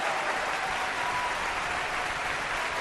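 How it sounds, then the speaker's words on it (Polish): Canned applause sound effect dropped in by a player during a Five Nights at Freddy's 2 gameplay session: a steady, uniform hiss of crowd clapping at moderate volume with no other sounds over it. "Brawa se sam mogę dodać."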